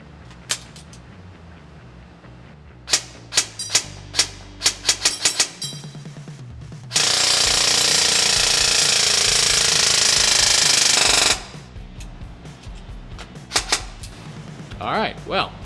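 A Ronin T6 airsoft gun fitted with a Gate Titan fires a few sharp single shots, then a long, loud, unbroken burst of rapid fire lasting about four seconds, followed by more scattered clicks and handling noises.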